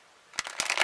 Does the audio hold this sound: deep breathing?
no